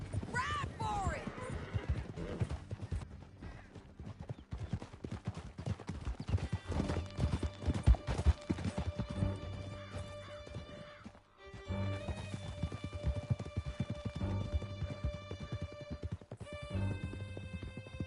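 Horses gallop in a rapid clip-clop of hooves across a canyon, loud and continuous, with whinnies and shouting voices over the top; the hoofbeats briefly cut out and then resume.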